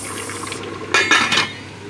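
A metal lid is set onto a pot of homemade beef stew as it cooks, giving a few close clanks and rattles of metal on metal over a low steady background hum.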